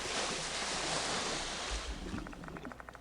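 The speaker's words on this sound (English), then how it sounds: "The sewer water starts seeping into her mouth and nose" Sewer water in the horror game Death Mark 2 swirls and sloshes in a steady broadband wash, with a low gurgling surge near the middle and faint dripping, bubbling taps toward the end.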